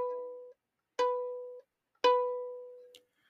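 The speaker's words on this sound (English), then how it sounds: "B on the A string sounds like this." Three separate plucked or bowed tones from a violin, each the note B played on the A string, ringing and fading with short gaps between, close and fairly quiet with no talking.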